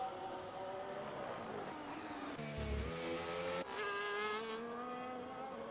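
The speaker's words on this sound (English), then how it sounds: "Right, so we've got some more cars coming out of the pit." Race cars from the Ferrari, Mercedes and Sauber teams in a racing video game pull out of the pit at the Mexico round, engines droning and shifting pitch with steady revving and gear changes, with no talk over them.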